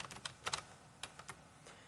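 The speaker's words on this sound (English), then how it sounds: "I'm going to type the word total, and I'm going to type the word average" Typing on a computer keyboard while entering labels into a Google Sheets spreadsheet, a quick irregular run of faint, close key taps.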